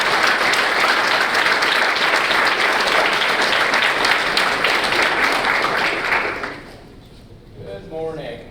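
An audience applauding to welcome Senator Rand Paul at a speech to a medical specialty alliance: loud, steady clapping from a large crowd that fades out after about six seconds.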